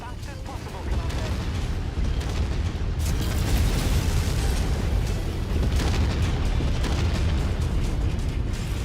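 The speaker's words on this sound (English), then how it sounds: "firing the AC-20s on the King Crab here, that even sort of rocks the mech" Heavy, booming AC-20 autocannon fire from a King Crab mech in MechWarrior 5, a dense continuous barrage of blasts and rumbling mechanical noise, with a voice speaking partly underneath.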